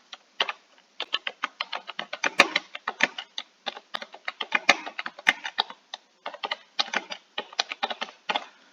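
Rapid, uneven keystrokes on a computer keyboard as a prompt is typed into ChatGPT, a steady run of close, crisp clicks in short bursts with brief pauses and no talking.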